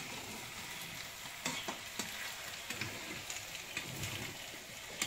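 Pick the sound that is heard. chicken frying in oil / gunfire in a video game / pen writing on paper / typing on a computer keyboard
chicken frying in oil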